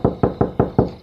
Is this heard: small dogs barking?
no